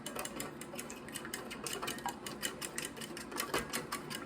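Eggs being whisked in a bowl for a breakfast casserole, a steady rapid clicking and tapping of utensil against the bowl, close and continuous with no talking.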